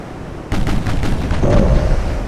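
Naval guns fire in Ultimate Admiral: Dreadnoughts, with 10-inch and 7-inch guns in action: a sudden heavy boom followed by rolling, rumbling reports and a second low blast, loud and close.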